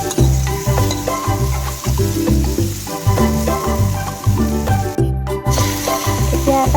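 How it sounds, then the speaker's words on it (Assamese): Bhangon fish frying in a pan with ginger-garlic paste and a green chilli, Assamese style: a continuous close sizzle with stirring, layered over a steady rhythmic tonal backing. "দি মই আকৌ ভালকৈ ভাজি ল'ম।"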